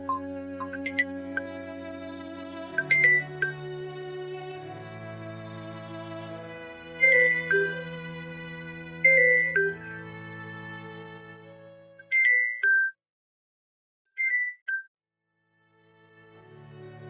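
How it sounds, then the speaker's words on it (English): A cell phone rings with a melodic tone, sustained notes layered with brighter chime accents, repeating for several seconds and then breaking into short separate bursts before stopping, clear and close with no talking. "My cell phone was ringing"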